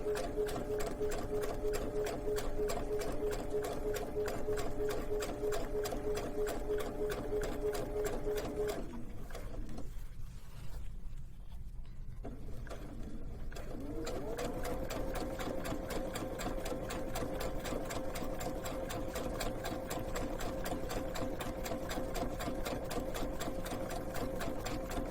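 Sewing machine fitted with a gathering foot stitching and gathering fabric, a steady close whirring hum that stops for a few seconds midway and then resumes at a steady pace.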